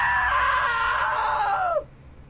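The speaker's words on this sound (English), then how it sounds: "Now that was a great scream" A woman's shrill, sustained scream in the video game What Remains of Edith Finch, loud and close, wavering for nearly two seconds before breaking off abruptly into quiet.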